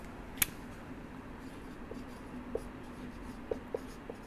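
Pen writing notes by hand on paper, soft continuous scratching with a few faint taps and strokes, quiet and close, no talking.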